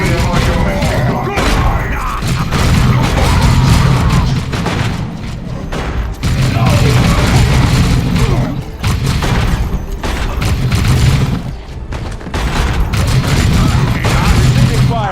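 A Dawn of War II battle between Space Marines and orcs erupts in loud volleys of gunfire and heavy booms, pulsing in bursts with brief lulls, while game voices speak over the fighting.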